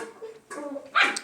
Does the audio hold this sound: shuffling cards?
no